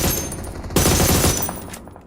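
Automatic gunfire in the PUBG Mobile video game, a dense continuous fusillade of rapid rattling shots that fills the whole stretch, loud and close, with a brief dip near the end before firing resumes, no talking.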